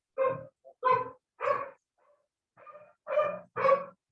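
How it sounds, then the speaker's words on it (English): Happy, excited dogs barking at a beach gathering, six or seven short sharp barks in quick succession with brief pauses between, close and fairly loud with no talking. "That's a bark of joy."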